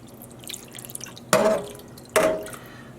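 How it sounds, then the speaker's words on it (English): Water mixed with white vinegar poured into a dye pot of wool roving, heard as two distinct splashing pours, the second shorter, over faint dripping. "Here is 4 cups of water plus 8 tablespoons of white vinegar. And I'm just sort of pouring this mostly around the edges."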